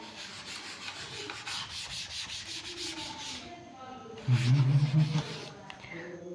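Chalk or marker writing is rubbed off a classroom board with steady scraping strokes, building to a louder, heavier rub near the end, with faint room noise and no talk over it.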